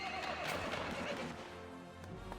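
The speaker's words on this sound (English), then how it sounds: "my horse is taking another hit here" A horse neighs after being struck in Mount & Blade Warband during an American Civil War battle, a short whinny amid faint battle noise and hoofbeats, with soft talking underneath.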